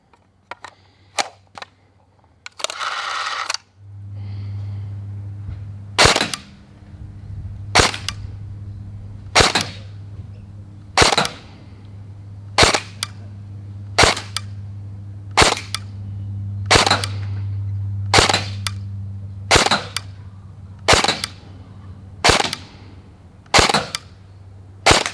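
An SLR Ion Lite CQB short-barrel gel ball blaster fires Ozgel Ultra Elite gel balls in about fifteen sharp, loud snapping shots spaced a second or so apart, over a steady low motor hum, with a few quicker clicks and a burst of whirring at the start.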